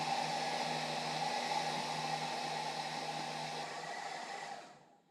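A hair dryer blows with a steady, loud whooshing hum for several seconds, then switches off and winds down to silence at the end.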